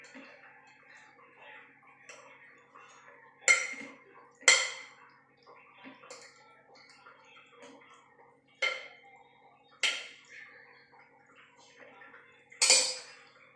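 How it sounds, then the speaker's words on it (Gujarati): Cooked vegetables for a shaak being mashed in a pan, with soft, fairly quiet clinks and knocks of the utensil against the metal. The strikes come in irregular repeated bursts over a low background. "જો આ રીતે પ્રોપર મેશ કરી દેવાનું"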